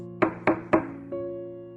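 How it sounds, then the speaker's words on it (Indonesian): Three firm knocks land on the wooden door of a house in an even rhythm, followed by a sustained tone underneath. "Dengan gemetar mengetuk pintu rumah mantan mertua"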